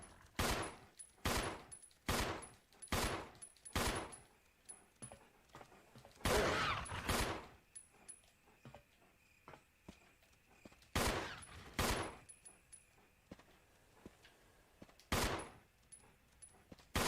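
Resident Evil video game gunfire comes in clusters of sharp, loud bursts, several rapid shots in quick succession separated by brief quiet gaps, with faint mechanical clicks between volleys and no talking.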